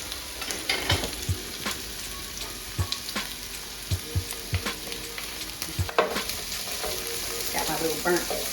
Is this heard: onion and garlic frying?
yes